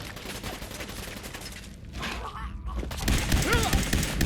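Gunfire in the video game Fallout 4, dense bursts of rapid shots and thuds that ease briefly mid-way, then return louder near the end.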